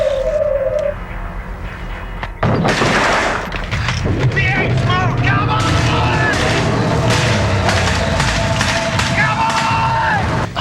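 Movie-scene gunfire from a 1988 action film: a sudden loud onset of dense, repeated shots and bursts, overlapping with shouting voices, bird-like chirps and booming impacts, continuing chaotically for several seconds.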